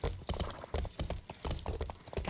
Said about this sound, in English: God, war horses are so much better.